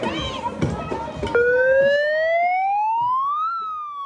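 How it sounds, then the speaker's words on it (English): A loud horn blares right up close in a public place, a steady rising wail that climbs in pitch and then dips, following a burst of overlapping voices and noise. "I don't know if you guys have ever had one of those horns in your face, but they are loud."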